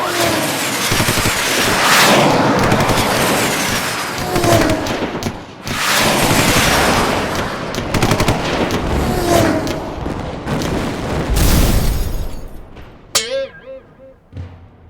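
A movie aerial dogfight with rockets and gunfire: dense, loud bursts of shots and blasts that crowd together in rapid volleys, then break off near the end into scattered sharp cracks.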